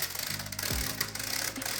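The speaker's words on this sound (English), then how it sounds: "It's clearly got no like tolerances built into it, so it's just rattling." A rotate-and-slide puzzle fidget toy with loose parts rattles as it rolls, giving a brief, close, grinding mechanical clatter that is fairly loud.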